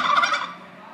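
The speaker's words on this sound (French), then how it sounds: "Le dindon, il glougloute" A turkey gobbles in one rapid, loud warbling burst that trails off quickly, with no voices over it.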